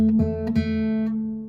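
A single guitar note picked on the 2nd fret of the G string, clear and sustained, with a couple of light pick or finger attacks early on, ringing alone and slowly decaying.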